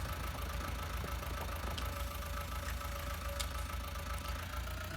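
A tractor engine runs steadily during a plowing pass on a farm field, a constant mid-distance low rumble with a faint knocking beat and occasional light clicks, no voices.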